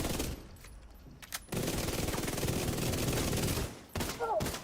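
Rapid automatic gunfire in a shooter video game, a sustained dense burst of close, loud shots with a few short bursts before and after, along with some faint game sounds.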